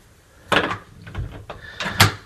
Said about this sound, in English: I'm going to go ahead and open my front door here